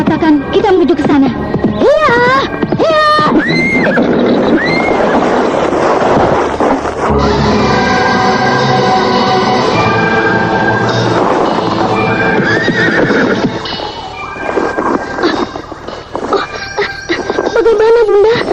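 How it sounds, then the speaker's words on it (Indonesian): A horse whinnies several times in loud, rising and falling calls, then steady clip-clop hoofbeats of a horse walking carry through the rest, with some voices mixed in. "Kuda ini berjalan sudah tidak terlalu cepat"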